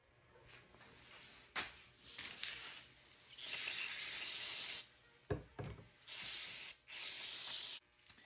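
A brush scrubs diesel-soaked carburetor parts from a long-idle Farmall Cub tractor, making bursts of close, hissing bristle strokes that come in several long scrubbing runs with short pauses and small knocks between.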